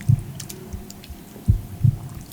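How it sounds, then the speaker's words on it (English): Amplified heartbeat played over speakers at a commencement address, a few low thumping beats in a lub-dub pattern with a soft hum between them, moderately loud and alone. "Notice the heartbeats that you hear"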